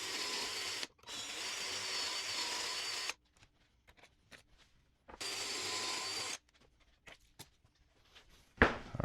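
Power drill boring pocket holes into reclaimed pallet wood for a shelf, two loud bursts of whirring drilling separated by quieter handling clatter, ending with a sharp knock.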